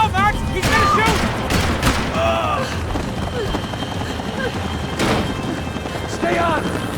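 Gunfire crackles in Max Payne 3, with a heavy burst of shots breaking out near the five-second mark over a constant busy background, while voices shout throughout.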